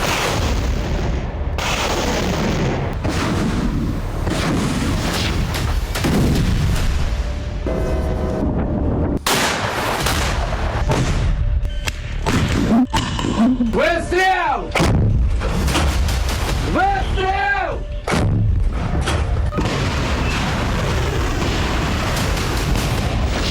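Russian artillery bombards Kharkiv in wartime, with repeated heavy booms and gunfire blasts, some near and loud, others rumbling in the distance, in a steady barrage that runs throughout with no talking.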